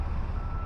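A city bus backs up on a cold day, its reversing beeper sounding briefly over a dense, steady rumble of traffic and engine noise.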